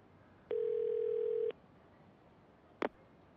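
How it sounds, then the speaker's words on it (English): A pager in the video game Yakuza 0 beeps with one steady, clean electronic tone held for about a second, then a short, sharp blip follows after a pause, over a quiet background. "そっちで誰か俺のポケベル鳴らしたか"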